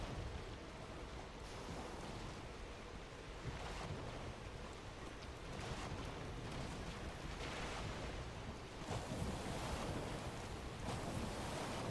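Boat sailing through waves on the sea in the Valheim game, with steady surf, wind and water washing against the hull, a continuous rushing wash that swells slightly at intervals.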